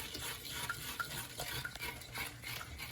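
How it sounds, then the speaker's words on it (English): A spoon stirs rum syrup in a pot, giving a steady, continuous scraping and swishing with faint bubbling underneath, close by and without speech. "Keep stirring it."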